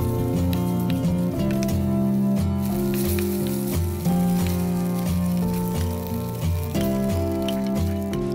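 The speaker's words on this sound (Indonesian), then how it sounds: "Lalu goreng dagingnya sampai matang dan" Cornstarch-coated beef fries in hot oil in a wok with a steady sizzle and crackle, partly masked by louder background music that plays throughout.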